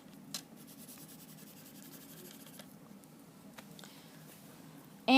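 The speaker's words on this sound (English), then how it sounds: "I'm going to actually draw this for you" Drawing by hand on paper, a faint, close scratching and rubbing of a pen with a few light taps, quiet throughout and ending in a sudden louder bump.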